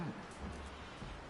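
Storm rain in Red Dead Redemption 2 hisses steadily and softly as a continuous wash, with faint low rumbles underneath.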